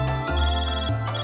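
A phone ringtone from the video game Trails Through Daybreak, a short electronic tone with sustained musical pitches that step between notes, loud and close, heard alone.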